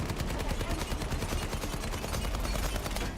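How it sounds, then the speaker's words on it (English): A chain gun fires in a video game, a rapid, continuous stream of loud, tightly spaced shots hammering without pause for the whole stretch. "Yes, chain gun."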